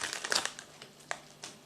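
Crinkly plastic packaging crackles and crumples in short, uneven bursts as someone struggles to open it, close and fairly quiet, with pauses between the rustles.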